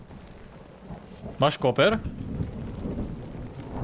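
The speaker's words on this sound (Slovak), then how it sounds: "Kokos, ale dobrá búrka je, ty kokos." Thunderstorm in a video game about a fungus infection, with steady rain and low rumbling thunder running throughout, while someone speaks briefly in the middle over the storm.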